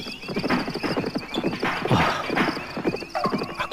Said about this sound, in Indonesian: Aku mendengar langkah kuda.